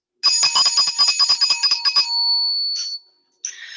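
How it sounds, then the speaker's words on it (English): A B flat note on mallet percussion is struck in a quick run of about a dozen bright, ringing strokes, then held to decay, followed by two more single strikes after a short gap. "So that is B flat. It sounds like this."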